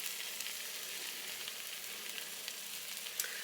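An egg fries steadily in a pan on a stovetop while making a simple breakfast sandwich, giving a continuous close sizzle and crackle with a few brighter pops near the end and no voices.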